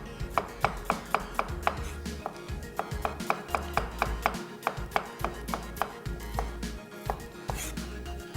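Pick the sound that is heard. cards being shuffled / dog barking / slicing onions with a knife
slicing onions with a knife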